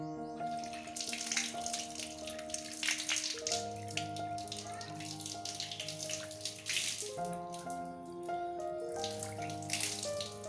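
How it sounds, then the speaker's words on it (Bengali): Tap water runs steadily at an outdoor washing place, soaking clothes, a quiet continuous splash under sustained tonal background music. "কলের পাড়ে এসে প্রথমে কাপড়গুলো আগে ভিজিয়ে নিচ্ছি"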